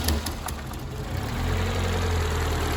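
Peugeot 106 engine with a missing carburettor hose running roughly, a close, uneven low idle with irregular knocking pulses and a few sharp ticks early on.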